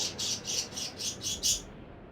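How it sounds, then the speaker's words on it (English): Birds in the Elden Ring Nightreign game chirp in a rapid series of about seven bright, evenly spaced tweets, fairly close and alone over a soft ambient hum. "Yep, the birds have gotten to see me actually fail this run a couple of times now"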